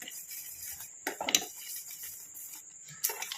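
Utensil scraping and clinking against a pan as a cream mixture is stirred on a stove over low heat, a few short bursts of scraping separated by quieter stretches.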